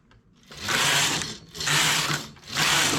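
A domestic knitting machine carriage is pushed back and forth across the needle bed, knitting rows of a simple embroidered pattern, giving three loud whirring sweeps with short pauses between them, with no talking.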